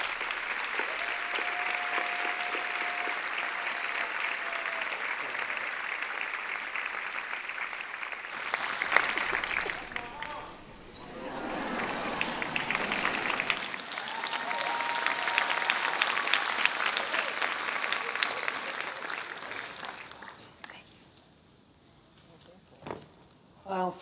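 Sustained audience applause at a university commencement ceremony welcoming the graduate student speaker to the podium, a broad wash of clapping from a large crowd lasting around twenty seconds, with a brief announcement voice and fading into quiet at the end.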